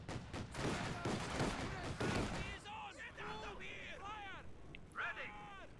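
Gunfire from a flak half-track and a T-70 tank in a strategy video game, rapid bursts of shots and explosions under a commentator's voice, with whistling shell sounds later.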